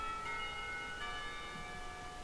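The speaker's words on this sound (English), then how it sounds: "the clock tower bell rings, signalling the end of the period" A clock tower bell rings in a school setting from the game Katawa Shoujo, a faint, sustained metallic tone with lingering overtones over a steady background hiss.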